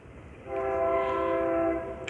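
A passing train sounds a sustained horn, a steady chord lasting over a second that swells and then fades against a low rumble of rail noise, with no one talking.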